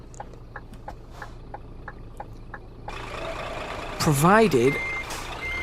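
A truck in Euro Truck Simulator 2 backs up with a wide-load trailer, its steady engine drone joined by reversing beeps, while someone talks over it and a rising air-brake-like whine sweeps near the end.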